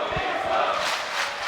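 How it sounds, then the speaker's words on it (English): Esports arena crowd at a PGL Major Dota 2 playoff match in Arlington, roaring and cheering in a loud, sustained swell that rises and falls without letting up. "Yeah, that's the crowd sound"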